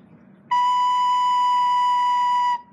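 A recorder plays a single sustained B note, fingered with the thumb and first finger, held steadily for about two seconds. The tone is clear and bright, close and loud, and heard alone.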